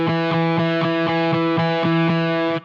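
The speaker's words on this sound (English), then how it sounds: "Just the same note over and over again, equal dynamics, no interesting articulation." An electric guitar with a gritty, effect-laden tone picks one note on the D string's second fret in steady sixteenth notes at even volume, with around ten clear, evenly spaced attacks and no voices.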